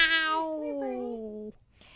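A single drawn-out cat meow, a cat named Bernie, a clear tonal wail that bends downward and stops abruptly, followed by a faint brief sound, close and alone.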